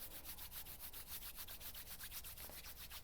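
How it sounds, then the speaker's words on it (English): Palms lightly coated with oil rubbing briskly together, a soft, close, rhythmic swishing of fast even back-and-forth strokes heard alone against quiet. "just start to rub your hands together"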